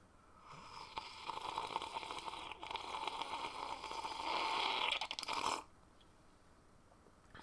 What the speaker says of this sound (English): That was a pretty good slurp.